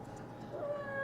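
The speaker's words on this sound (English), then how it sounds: "I had a cat digging around beside me." A female cat named Colme lets out a short, faint, rising meow close by, under a soft room hum.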